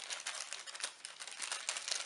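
Small AliExpress parcel handled and opened, a steady run of soft crinkling and rustling of packaging, close and fairly quiet, with no voices.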